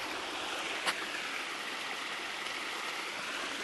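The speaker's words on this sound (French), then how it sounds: "Allez, un petit peu d'eau." Water flows steadily outdoors in a château park, a continuous broad rushing hiss at even loudness, broken only by one brief click near the start.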